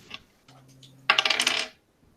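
Dice rolled for damage in a tabletop game clatter and rattle across a hard surface in a quick burst of clicking impacts lasting about half a second, close by, with faint tapping just before.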